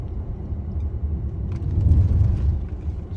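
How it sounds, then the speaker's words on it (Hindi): A car rolls along a road through dense jungle in Thailand, its low engine rumble and road noise steady and close throughout, swelling slightly near the end, with no talk. "शाकिर भाई ड्राइविंग कर रहे हैं"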